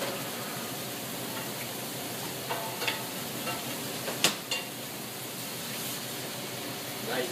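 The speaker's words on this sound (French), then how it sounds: "il faut bien laisser saisir la viande" Beef searing in a pan for a braise of beef with carrots, giving a steady low sizzle with a few faint clicks and stirs, fairly quiet and without talk.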